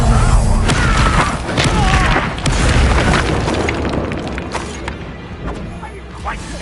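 Fiery bursts and booming impacts from the Incendio fire spell in the Hogwarts Legacy video game erupt in quick succession, loud and close, mixed with other combat effects and voices.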